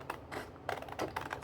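Postcards get trimmed on a paper trimmer in a quiet room, producing a few soft, quick clicking and slicing taps close by over about a second and a half.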